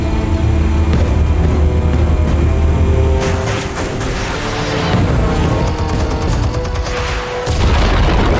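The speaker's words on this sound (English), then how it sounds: "Explosives armed. Fire when ready." Explosives detonating with heavy, continuous booming and rumbling, loud and dense throughout, with bursts and crackling debris layered over a deep low roar.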